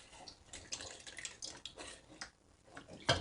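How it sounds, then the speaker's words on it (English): Cold broth straight from the fridge poured into a pot of onions for French onion soup, a soft, faint splashing and trickling of liquid lasting a few seconds. "we can add the rest of our broth"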